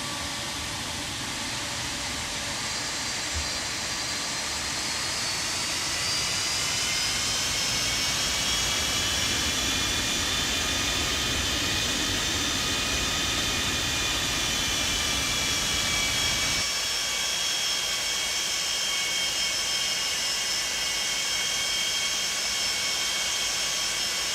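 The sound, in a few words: Boeing 747-200 jet engines, Felis add-on in flight simulator game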